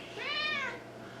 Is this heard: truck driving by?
no